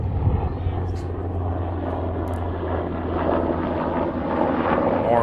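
A propeller airplane flies by near Redmond Airport during a baseball game, a steady droning engine rumble that swells slightly toward the end, with faint voices beneath.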